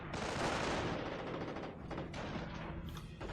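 Dense, continuous gunfire from a World War II strategy game, with a machine gun team opening up amid other weapons and explosions; loud and sustained throughout with overlapping bursts.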